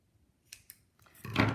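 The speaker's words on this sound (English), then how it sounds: "cut off the excess that's actually on the fabric" Scissors snipping excess fabric off a handmade lampshade: two short crisp cuts close by, then a longer louder rasping cut at the end.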